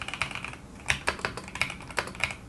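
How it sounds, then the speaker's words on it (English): Typing on an Epomaker EK68 gasket-mounted keyboard gives crisp, close keystrokes. They land in an irregular rhythm, some in quick pairs, each a sharp thocky click with nothing else beneath. "the overall typing experience for me is excellent, and I really love the sound that the keys make"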